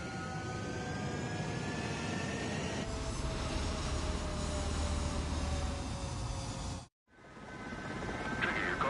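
Jet aircraft roaring on a runway during takeoff in the Ace Combat 7 video game, a steady loud engine drone with rising whine that builds, cuts out abruptly near the end, then resumes.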